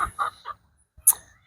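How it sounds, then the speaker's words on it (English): A Polish hen, a skittish crested chicken, gives a few short close clucks in separate bursts with quiet gaps between, then one sharper higher call. "Fro is our Polish hen."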